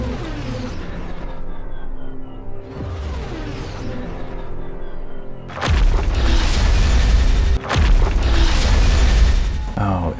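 Mortar fire in the video game Siege of Centauri: after a stretch of tonal game music and effects, heavy booming blasts hit loud and close, one after another, with a brief dip between them.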